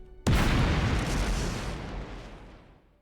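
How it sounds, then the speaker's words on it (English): Missile explosion in the video game Roche Limit: one sudden heavy boom that bursts in loud and rolls off into a long, fading rumble. "Retreat! Retreat! Incoming missile!"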